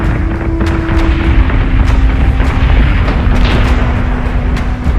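Missiles bursting in a space battle in the Battlestar Galactica Deadlock strategy game, a dense, loud, continuous barrage of booming explosions layered over a steady rumble, with sharp repeated impacts throughout.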